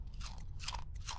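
A character chomps and swallows a bone charm in the video game Dishonored: three quick crunchy bites in a steady rhythm over a low ambient rumble, close and fairly quiet.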